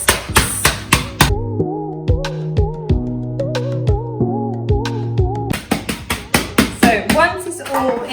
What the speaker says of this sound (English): you can either blitz it or you can get your anger out and smash the biscuits